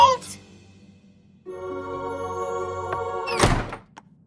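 A cartoon door shutting with a single solid thunk near the end, following a steady held tone, with brief sounds at the start.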